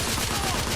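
Rapid, continuous gunfire from The Order: 1886, a dense and unbroken crackle of shots that stays loud throughout, with no voices over it.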